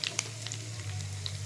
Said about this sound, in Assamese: সেয়া মই ইয়াতে এতিয়া পিঁয়াজ ঢালিছোঁ, সৰু কাটি লোৱা নহৰুকেইটাও দি দিছোঁ।